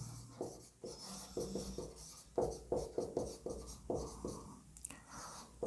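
Chalk or marker strokes on a classroom board during a maths lesson, a series of short scratchy scrapes in uneven bursts, close and fairly quiet, with gaps between strokes.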